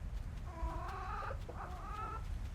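A video game chicken clucks in two short bursts of nasal, warbling calls over a low background hum, with no talking.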